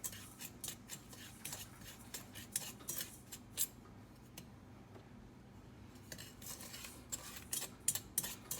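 A utensil stirs melting sugar in a pot for caramel, giving soft, irregular scraping and clinking taps close by and fairly quiet, with no voices.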